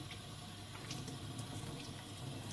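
Running water from a tap flows steadily while hair dye is rinsed out, a soft continuous splashing rush with no talk.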